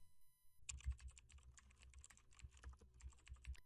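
Fingers tap quickly on a computer keyboard while a WordPress domain address is entered, a quiet run of close, uneven clicks with short pauses, with no talking.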